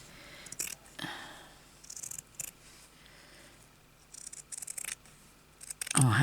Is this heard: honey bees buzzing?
no